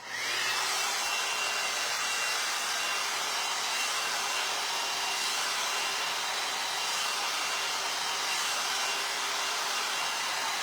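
A hair dryer runs continuously on hair, its steady loud airy whir close by and alone without pause.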